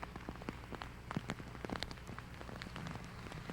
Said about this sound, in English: the rain is just relentless